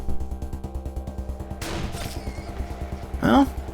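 Two sharp gunshots ring out in Wasteland 2, booming bursts over a pulsing, rhythmic music backdrop, the second shot louder and closer than the first.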